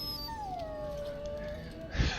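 A dog in Dragon Age: Origins lets out one long, falling whimper that fades into a thin whine, close and fairly loud, ending in a brief low thump.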